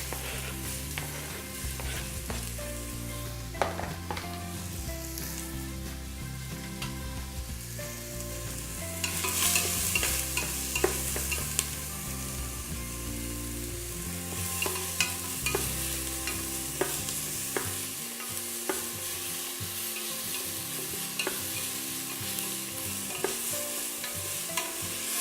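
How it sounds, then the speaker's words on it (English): Onions and garlic sautéing in oil in the pan, a continuous close sizzle with frequent stirring scrapes, steady throughout and with no speech. "use the same oil to sautée the onions and the garlic"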